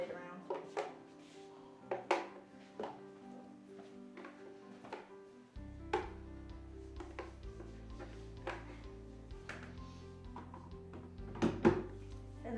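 A blender blade is moved around in a bowl of blended pizza, giving scattered knocks and clatters against the bowl. A steady hum joins partway through.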